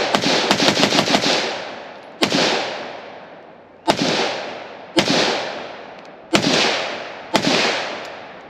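PE90 (STGW90) Swiss rifle firing outdoors on a sunny range: a quick burst of several sharp shots, then five loud single cracks spaced about a second apart, each trailing a long echoing decay.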